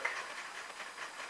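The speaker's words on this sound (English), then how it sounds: "this loco has just hit a dead spot" Model train locomotive stalled on a dead spot of track, giving a faint, steady hiss with a soft rolling texture and no distinct clicks, heard alone.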